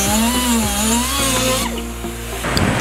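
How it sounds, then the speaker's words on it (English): A Dremel or die grinder with an aluminum grinding bit cuts off rivet heads on a Corvette C7 rocker panel. The loud, close, high whine wavers in pitch as the bit bites, then eases off near the end. "Using a Dremel or die grinder with an aluminum grinding bit, carefully grind off the heads of the rivets."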